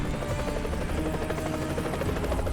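A helicopter in Earth Defense Force 2025 drones with a steady, dense rotor thrum, loud and continuous throughout.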